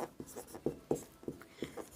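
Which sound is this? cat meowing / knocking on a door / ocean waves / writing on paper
writing on paper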